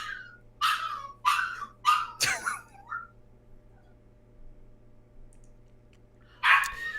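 A dog barks sharply in reaction to dog food, four quick close barks and a whine, then quiet hum before one more bark.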